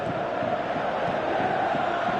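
Stadium crowd in PES 17 football match, a dense continuous roar of cheering at steady volume throughout.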